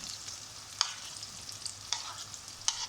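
Onions tossed into eggplant frying in a kadhai, a steady faint sizzle with three sharp scraping stir clicks spaced about a second apart, no voices.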